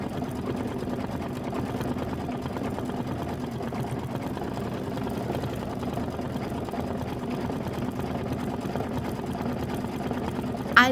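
An embroidery machine stitches out a quilt block for a bicycle design, its steady, rapid needle chatter and motor hum running unbroken and close, with a brief louder clack near the end and no talking.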